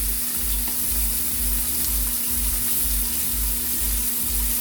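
Steak frying in a hot pan with melted butter, a steady, dense sizzle that holds without pause over a faint low hum.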